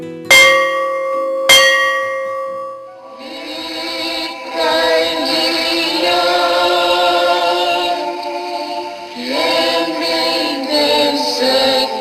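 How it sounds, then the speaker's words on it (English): A church-type bell tolls twice near the start with loud ringing strikes, then a sustained chime-like tone lingers and swells through the rest of the passage with no talking. "The bell tolls, reminding the learners the lofty mission they are assigned to undertake."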